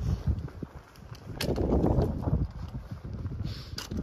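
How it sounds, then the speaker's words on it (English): Wind gusts across a mountain ridge in South Kananaskis in the Rockies, buffeting the microphone in rising and falling rushes, loudest in the middle, with faint rustling and crunching underneath. "the wind is kind of hitting me in the face"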